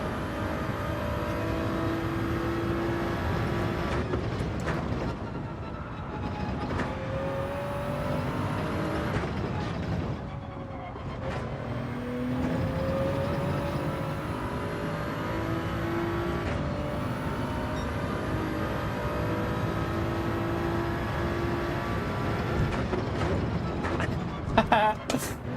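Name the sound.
Toyota Supra engine racing in video game Gran Turismo 7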